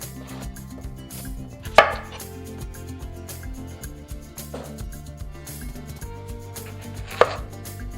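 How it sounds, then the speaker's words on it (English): Vegetables chopped with a Butterfork chef knife on a cutting board in a home kitchen, a steady run of close knife strikes with two sharper, louder chops standing out, no talking. "we have a lot of vegetables to chop, so you're gonna get to see why this knife is my new favorite"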